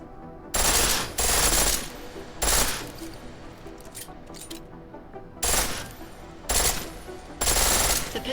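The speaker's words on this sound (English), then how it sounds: "The pistol in full auto will take down targets fast, but it'll burn through your ammo." Pistol firing in full-auto mode in Deus Ex: Mankind Divided, heard as loud, sharp bursts of rapid shots that come in clusters separated by short pauses, with a background hum between bursts.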